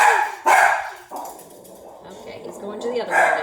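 Dogs barking indoors at home, one deaf and blind, giving a few loud close woofs separated by pauses, with quieter whines between and a person talking over them.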